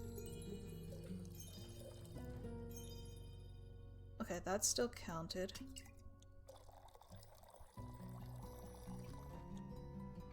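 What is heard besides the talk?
liquid pouring in the video game Tavern Talk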